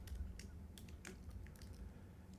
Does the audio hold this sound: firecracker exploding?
no